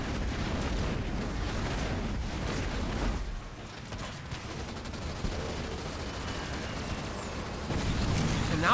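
Scatter bomb strikes in the video game Halo Wars 2 produce dense, crackling explosions and gunfire-like bursts, loud and continuous with a brief lull midway before rising again.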